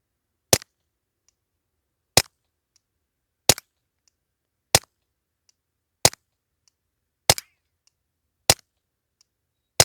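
Suppressed Beretta 20X Bobcat .22LR pistol shots ring out as eight sharp, evenly spaced cracks, each followed by a faint mechanical click, against near-silence.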